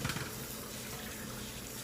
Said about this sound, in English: Run the cold water over them.